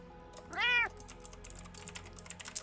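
Finnick, a cat, lets out a single loud drawn-out meow, with quiet keyboard typing clicking away in the background.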